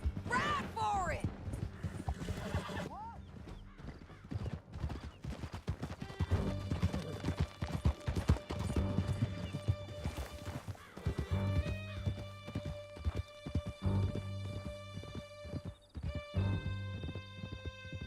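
Horses gallop hard in Red Dead Redemption, a continuous rapid clip-clop of hooves with occasional whinnies, mixed with game music, shouted dialogue and some rattling mechanical noise throughout.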